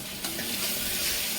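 Chopped cluster beans (guar) being stirred into hot, sizzling masala for a gravy-style sabzi, a steady close frying hiss with soft scraping of the spoon throughout.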